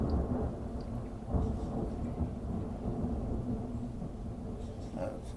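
Deep thunder rumbles low and continuous through steady rain, with the storm's roll swelling and easing rather than breaking into one sharp crack.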